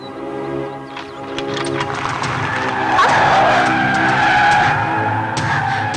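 A car turns sharply with its tires skidding, a sustained rising squeal over a steady engine rumble that grows louder midway and holds close by.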